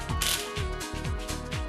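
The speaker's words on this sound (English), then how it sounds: "always tighten 4 bolts first in a crisscross pattern" A ratchet tightens cylinder head bolts on a Bajaj Pulsar NS200 engine, giving quick repeated clicking strokes in an even rhythm, close and fairly loud.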